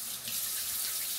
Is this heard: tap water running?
yes